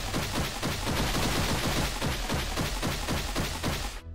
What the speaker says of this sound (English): by a little more powerful, I mean it basically fills the entire room with fire